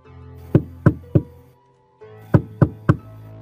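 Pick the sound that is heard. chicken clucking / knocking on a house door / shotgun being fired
knocking on a house door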